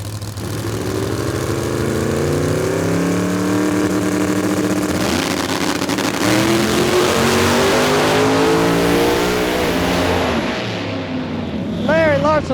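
Drag race cars at Beech Bend Raceway during a small tire outlaw event roar loudly down the track, engines rising in pitch as they accelerate, with a continuous heavy engine drone and commentary speech over it.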